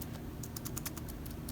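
Keys pressed on an iBook G4 laptop keyboard, a quick run of light, soft clicks at an irregular typing rhythm, faint and close over a steady low background hum.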